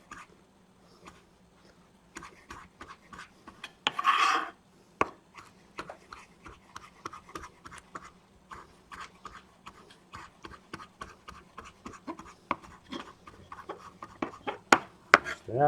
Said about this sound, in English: when you use this method of chopping, you gotta push the knife forward just a little bit when it hits the cutting board